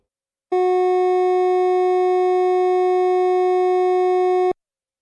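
A single steady pure electronic tone holds the note F sharp for about four seconds, then cuts off cleanly, with silence before and after.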